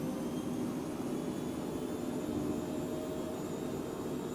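A jet engine roars steadily at high throttle, a dense, unbroken rush close by that holds a constant level with no voices over it.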